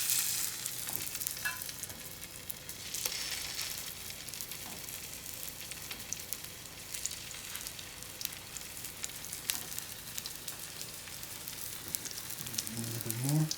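Veggie burger patties fry on an oiled griddle, giving a steady, dense sizzle that continues throughout, with a brief louder crackle near the end.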